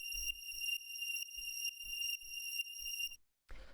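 A synth string patch holds a single sustained F note over a steady low pulsing beat in an acid techno mix, ringing bright and even for about three seconds before cutting off into a short noisy burst.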